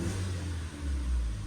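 A BS-6 car engine revving as the accelerator is pressed after throttle body cleaning and calibration, a low, steady rumble that swells briefly and holds, close and with no talking.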